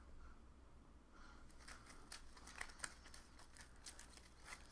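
A deck of cards is shuffled during a Marvel Legendary tabletop game, a quiet riffle of rapid papery flicks and snaps, close and faint, with no talking.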